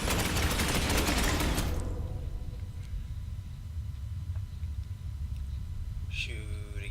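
A dense, loud burst of automatic gunfire from the video game Space Hulk Ascension roars for about two seconds, then drops away to a low rumbling background, ending with a short electronic tone.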